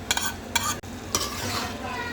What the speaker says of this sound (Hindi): फिर इसको हम डालेंगे ये प्याज।